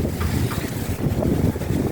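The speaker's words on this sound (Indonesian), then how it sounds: "angin untuk sore ini sangat kencang nih" Strong wind gusting across the Mahakam bridge, a loud rumbling roar buffeting the microphone continuously, with a short lull in the middle before the gusts pick up again.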